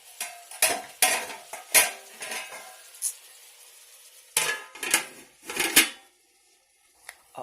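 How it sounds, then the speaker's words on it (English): Metal pot and lid clatter while meatballs cook slowly, with several sharp clanks and scraping knocks in bursts, then quiet at the end. "Add the lid on top of that"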